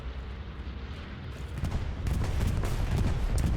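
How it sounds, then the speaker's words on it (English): Bombing-run explosions in a multiplayer war game, a low rumbling barrage that starts muffled and swells into heavier, denser booms and blasts toward the end. "Bombing run coming in."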